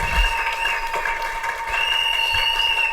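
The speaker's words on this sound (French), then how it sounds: "Acclamons pour la gloire de notre Dieu, de notre Saint, de notre roi" Church congregation applauding during a French-language service, a steady, dense wash of clapping from a large crowd that holds at an even loud level throughout, with no talking over it.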